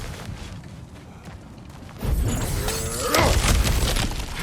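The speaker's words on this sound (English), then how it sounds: "Ah, back to smashing through things for fun and profit." Cracked ground bursts apart in God of War Ragnarök, a low rumbling crash that hits partway through and swells into heavy crumbling and debris falling, loud and close after a quieter ambient start.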